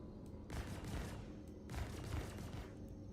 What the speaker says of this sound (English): Why are they shooting me for?